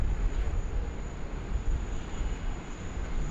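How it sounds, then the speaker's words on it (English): A FedEx cargo plane lands on runway 16 at Sydney Airport during a thunderstorm, heard as a steady, broad engine roar with rumbling low end that holds at even loudness and never builds or fades. "So FedEx 6013 just cleared to land there on runway 16 right."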